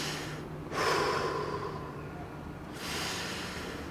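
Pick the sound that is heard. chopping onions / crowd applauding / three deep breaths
three deep breaths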